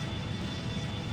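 Boeing 757 engines drone in a flight simulator game mid-flight, a steady dense roar with a strong low rumble and no breaks, heard alone without talk.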